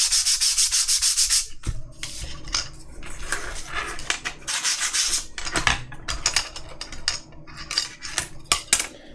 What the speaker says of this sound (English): let me just sand this off a little bit.